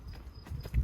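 A donkey walking outdoors in the early morning, a few soft close hoof clops over a low rumble of ground noise.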